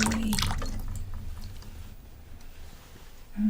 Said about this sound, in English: from this side, I'm just pouring all the way.